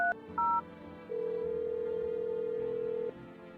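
In a video game, a telephone call to a neighbor starts with two short dial-tone blips, then a long steady ringing tone for about two seconds before it cuts off, clean and close.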